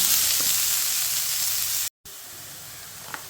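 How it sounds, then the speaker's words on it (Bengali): Vegetable bhaji sizzling steadily in oil in a pan, a continuous close frying hiss with a brief gap partway through and a faint stir clink near the end. "এইভাবে আমি 7 মিনিট এটা খুব ভালোভাবে ভেজে নেব"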